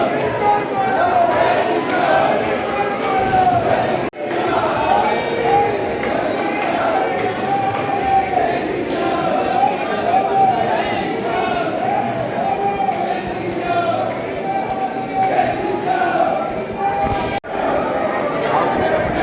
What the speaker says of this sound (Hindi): भीड़ आप लोग देख सकते हो, भीड़ बहुत ज़्यादा है।